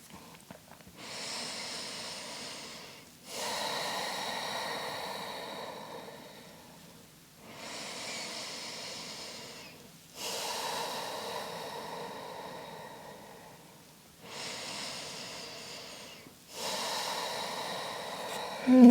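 Slow, deep breathing during a Yin Yoga hip-stretch session: three long, airy inhale-exhale cycles, each a broad hiss swelling and fading, close and steady with no talk.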